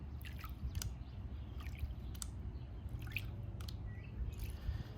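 Water sloshes and drips as a gold pan is dipped and shaken, with irregular small splashes and trickles over a low rumbling background, close and fairly quiet.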